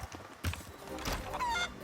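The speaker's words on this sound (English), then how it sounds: "Black chicken, I see you." A chicken in the pirate video game Sea of Thieves gives a couple of short, honking clucks over background game sounds, with one sharp cluck near the start and a brighter squawk later on.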